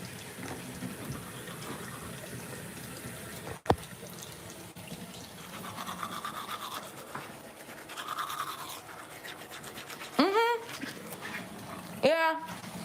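Someone brushes their teeth at a bathroom sink with a cheap toothbrush, a soft continuous scrubbing under running tap water, with a few brief squeaky yelps of a dog in the room.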